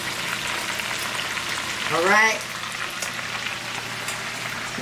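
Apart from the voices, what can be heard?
chicken frying in a pan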